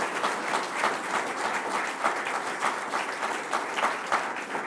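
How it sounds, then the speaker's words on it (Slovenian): Sustained applause from an audience at an awards ceremony for young Slovenian computing competitors, steady dense clapping filling the whole stretch with no talk over it. "Zaploskajmo še njim."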